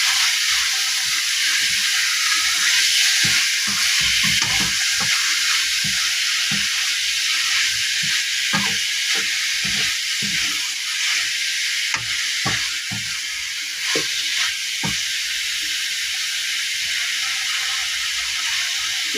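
Garlic and meat sautéing in a hot pan, a loud steady sizzle with scattered sharp crackles and occasional scraping stirs, continuous and close, no talking.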